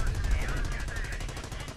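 Rapid repeated firing in the Company of Heroes video game, a fast even stream of shots with a wavering tone over a dense battle rumble, steady and loud throughout.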